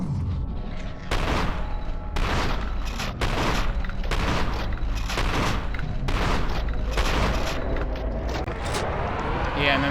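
Repeated heavy shotgun blasts in the first-person shooter F.E.A.R. 2: Project Origin, about eight booming shots spaced roughly a second apart, loud and close, with a voice talking over the action.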